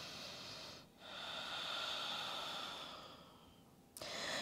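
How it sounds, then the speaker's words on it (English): Deep yoga breathing during a vinyasa flow, one long slow inhale or exhale filling several seconds, breath-like and close, with a short pause before a fresh breath begins. "Breathe in, breathe out here."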